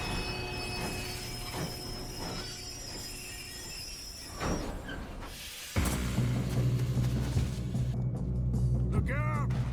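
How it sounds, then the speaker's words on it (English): A train in Red Dead Redemption 2 rolls along with rumbling wheels and high metallic squeals, growing louder and heavier partway through. "We have to stop this train."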